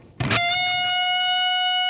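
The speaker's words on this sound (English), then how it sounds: "we're going to be doing a half bend on the 19th fret on the B string." Distorted electric guitar picks one note at the 19th fret of the B string and bends it up a half step, then sustains it as a loud, bright, steady tone with no voices.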